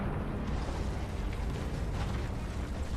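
Fire roars in Assassin's Creed III, a dense, steady rumbling crackle that fills the whole stretch at constant loudness with no voices over it.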